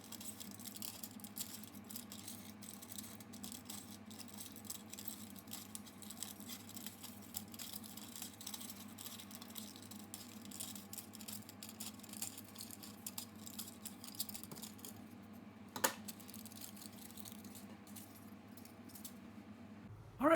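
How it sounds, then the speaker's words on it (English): Quiet, steady scratching and pattering as a spiral is cut from a thin aluminum circle, a faint continuous rasp with a sharp click near the end. "We've cut our spiral aluminum"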